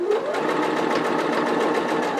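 A sewing machine runs steadily, stitching the base corner of a fabric tote bag and then reversing at the stitch line, a close, continuous rapid mechanical whir with no pauses.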